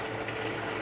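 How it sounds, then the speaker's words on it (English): A pump running steadily to drain water from a brewing tank during a stout brewday, giving a continuous dense mechanical whir and watery rush at constant level, with no talk. "we'll turn the pump on"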